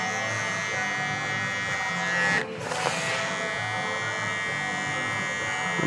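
Electric hair clippers buzzing steadily and close up while blowing out a curly faded haircut at a barbershop, a continuous whine with a brief dip partway through as the blade shifts position.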